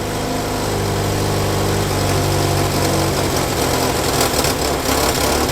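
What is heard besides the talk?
Ford Prefect car engine running at idle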